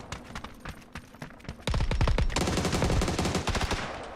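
Video game gunfire starts as scattered single shots, then becomes a loud, rapid burst of automatic fire that sounds close and continuous.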